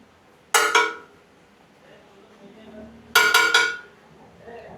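Nihari served into a bowl at the Haji Noora Nihari eatery in Pune: two sharp bursts of clinking metal and ceramic, each a quick rattling cluster of knocks, separated by a quiet pause with faint room murmur.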